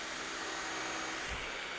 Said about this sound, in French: aspirateur sans fil. J'ai essayé juste d'appuyer sur le bouton